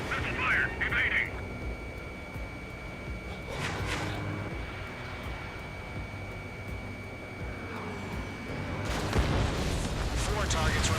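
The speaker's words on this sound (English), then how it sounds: "Missile away. Missile fired!" A missile launches in the Ace Combat 7 jet combat game, a dense rumbling whoosh with roaring jet engines, with sustained booming layers and bursts of noise beneath constant radio chatter and voices.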